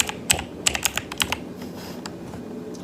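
Quick bursts of typing on a computer keyboard, a dozen or so crisp key clicks in uneven clusters, close and fairly loud, then sparser taps fading into quiet room tone.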